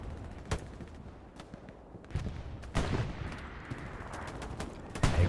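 STG assault rifle fire in Hell Let Loose on the Utah map, several sharp gunshots and short bursts, mostly distant with one louder crack near the end, over low battlefield rumble.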